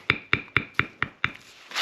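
A dog named Lefty rummages through his toy box nearby, making six evenly spaced knocking clatters followed by a softer rustle at the end.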